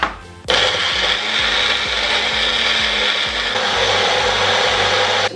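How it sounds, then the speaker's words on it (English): A blender whirs into life and churns sliced apples into a thick pulp, a loud steady roar with rhythmic chopping thumps underneath, close and uninterrupted. "So I'm going to blend all these up."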